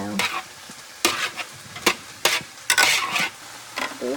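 Brussels sprouts and zucchini being flipped and stirred in a hot pan, steady sizzling frying broken by repeated scraping turns of the utensil, close and clear.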